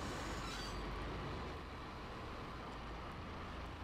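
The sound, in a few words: train running in video game Max Payne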